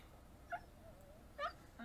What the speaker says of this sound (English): Lester's barking again and getting on my nerves